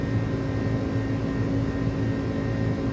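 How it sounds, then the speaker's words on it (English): An iniBuilds A300 airliner in MSFS2020 climbs out after takeoff with flaps still extended, its engines giving a steady, loud jet drone with a low rumble and a faint tonal whine, constant throughout with no talk. "I love the sounds on this airplane."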